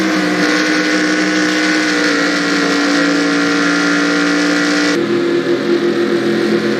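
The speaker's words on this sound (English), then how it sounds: "We're just going to see the wreck happening after he passes it." Several race car engines drone loudly and steadily in NASCAR Racing 2003 at a superspeedway as a wreck unfolds, with a sudden shift in engine tone partway through and no talking.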